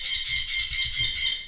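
A sun conure parrot squawks nearby in a rapid run of shrill, rhythmic, pulsing calls, steady and piercing, with no voices.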